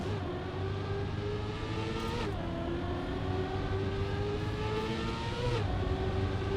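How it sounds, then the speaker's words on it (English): A racing video game car engine holds a steady, buzzing drone, then dips in pitch twice as it shifts up through the gears, loud and continuous with no talk. "That's a good gear change."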